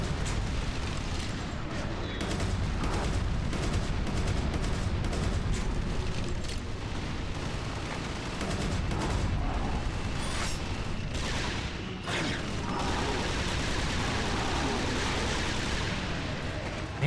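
Dense gunfire and explosions from the video game Resistance 2, set in city streets. A loud, chaotic barrage of shots and booms runs without pause, with a few sharper bursts.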